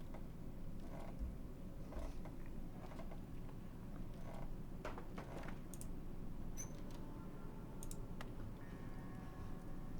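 Wooden boards being pried off a door in This War of Mine: scattered creaks, clicks and knocks over a low rumbling background, moderate and intermittent with no talking.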